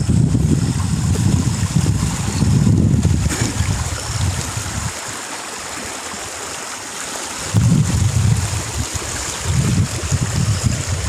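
A river flows nearby with a broad, rushing wash of water that dips quieter for a few seconds midway, then swells back. No voices are heard.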